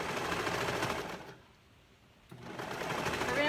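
A sewing machine runs steadily while stitching a stretched knit neckband on a gathered tank top, a close, fast whirring hum that pauses briefly midway and then resumes, with no talk.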